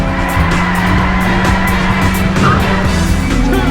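Cars racing and skidding in the PS2 arcade driving game Burnout, with loud, continuous engine roar and tire squeals layered over steady game music throughout, no talk.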